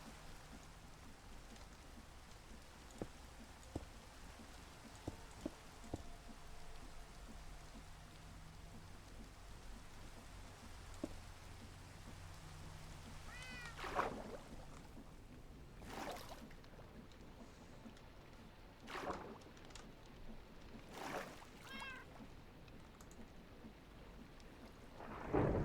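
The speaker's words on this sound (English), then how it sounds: "I usually try to avoid lightning storms because of fire." Steady rain patters in a multiplayer video game world while several rumbling thunder cracks roll through at intervals, the storm fairly faint and distant overall.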